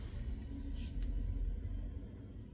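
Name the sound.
garbage truck rumbling outside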